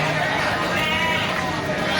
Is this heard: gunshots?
no